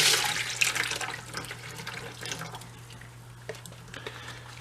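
Liquid mixed with antifreeze being poured off from a pail while working on a thrashed 1992 Daihatsu Hijet: a splashing, gurgling pour that starts strong and tapers into trickles and drips, close by over a steady low hum.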